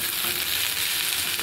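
Green okra sizzles in a pan with yogurt and a little coriander, a soft, steady frying hiss that holds evenly without pauses or voices.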